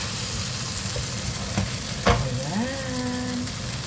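A pork chop fries in a generous amount of oil, giving a steady close sizzle throughout with a brief sharper crackle midway and a short rising tone near the end, with no talking.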